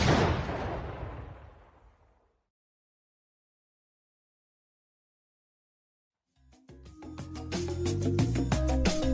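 A loud explosion effect plays as a vacuum cleaner switches on, a heavy blast that fades out over about two seconds, followed by silence and then a separate burst of dense, clattering noise.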